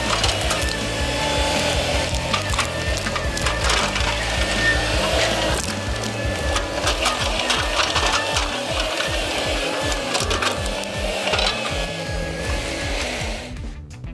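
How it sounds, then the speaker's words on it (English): A Komatsu excavator bucket tears out rubber tree stumps, a steady loud engine drone with repeated woody cracking, splintering and crunching throughout, alone without voices. "The machine's bucket digs deep into the ground and cleanly removes tree roots"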